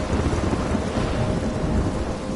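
Thunderstorm with heavy rain in the video game Life is Strange, a dense, steady roar of rainfall with deep rumbling thunder underneath, continuous and loud with no voices.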